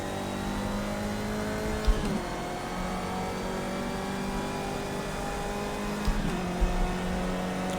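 Formula C race car engine in the Project Cars racing game, a steady mid-pitched drone holding near-constant revs, with two brief gear-shift dips and a couple of small pops.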